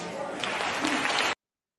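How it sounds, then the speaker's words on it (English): A crowd claps and cheers loudly in a dense continuous burst that cuts off abruptly after a moment. "The cheering from the crowd is the most disgusting part of this right here."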